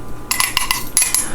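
A metal utensil clatters into a home kitchen sink, a run of bright ringing clanks and rattles settling over about a second, close and fairly loud with no talking.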